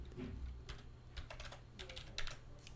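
Keys clatter on a computer keyboard as a password is entered during a Linux setup, a run of quick, irregular clicks in short bursts against a faint background hum.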